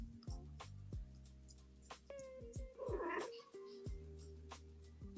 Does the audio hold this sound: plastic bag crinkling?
no